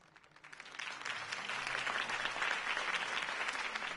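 Applause from a crowd swells up after a quiet start and holds steady, a dense wash of many hands clapping at once.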